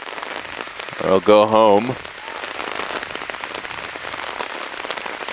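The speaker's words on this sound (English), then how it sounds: "Spoke too early on the departure of the rain. It's certainly back in full force." Heavy rain pours steadily at a soccer match, a dense unbroken hiss of drops hitting the ground, with someone speaking briefly over it near the start.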